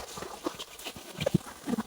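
A mare's hooves clip-clop at a slow walk, a handful of soft uneven knocks close by at a village building site, with faint background murmur.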